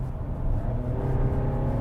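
VW Arteon with an 8-speed automatic at full throttle from inside the cabin, a steady rising engine drone with a low rumble, continuous and fairly loud.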